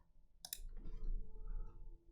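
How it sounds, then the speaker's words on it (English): A computer mouse gives a quick pair of sharp, faint clicks while a block is right-clicked and relabelled, followed by a soft low rustle of handling. "I relabel this if block by right-clicking on it, clicking on relabel and adding an else"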